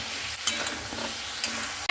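Potatoes and aubergine being stir-fried with spices in a pan, with continuous soft sizzling and a few sharper scraping stir strokes, close and steady, no talking.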